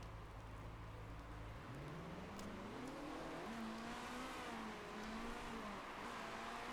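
Race car engines from the Motorsport Manager game at the Sydney track drone steadily, with a sustained engine whine that rises and holds in pitch over constant background noise.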